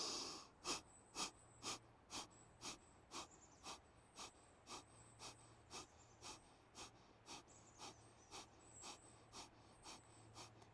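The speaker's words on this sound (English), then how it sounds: "Let's do breath of fire here. 45 little reps. Breathing in through the nose. Forced exhale out the mouth." Breath of fire in a power vinyasa yoga class: a fast, even train of sharp forced exhales out through the mouth, about twenty crisp puffs in steady rhythm, close and fairly loud, with no talking.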